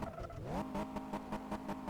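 A car in Car Mechanic Simulator 2015 reversing on held throttle, the engine note rising in pitch as it revs, then settling into a buzzing drone with rhythmic pulses, fairly close and loud.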